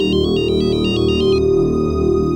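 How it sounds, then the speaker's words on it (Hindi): A phone ringtone beeps in quick repeated pulses for about a second and a half over loud, dramatic background music. "शिवा को फोन लगाओ।"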